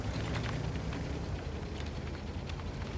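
Tank cannon fire and shell hits in World of Tanks, from a WZ-132 in a tier ten match, come through as a continuous roaring rumble of engine and battle noise with faint distant impacts.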